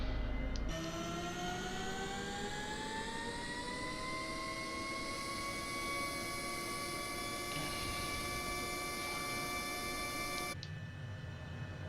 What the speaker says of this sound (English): so engine 1 is spooling up